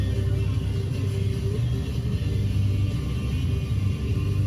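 A U-Haul truck climbs a winding mountain road, its engine giving a steady, loud low rumble with constant road noise throughout and no talking.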